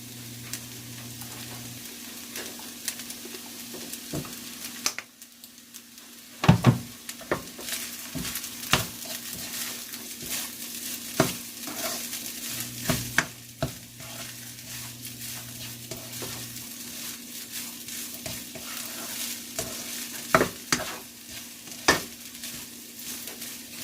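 Fried rice sizzles steadily in a pan with sesame oil while a utensil stirs and scrapes it in irregular, close clatters, without a break throughout.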